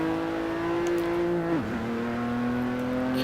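A car with an automatic gearbox driven hard in Forza Motorsport 7, its engine holding a steady loud drone before a sudden dip as it shifts, then settling into a slightly lower, even note.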